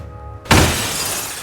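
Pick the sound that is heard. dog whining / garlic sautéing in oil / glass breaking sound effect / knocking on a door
glass breaking sound effect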